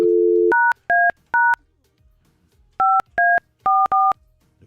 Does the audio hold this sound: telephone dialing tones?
yes